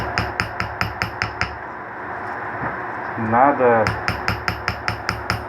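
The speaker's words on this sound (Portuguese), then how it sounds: "Tem que dar uma batidinha para ajudar" Light hammer taps on metal while straightening a motorcycle part, a steady run of crisp, evenly spaced knocks up close, then a pause with a brief rasping scrape before the tapping resumes at the same quick rhythm.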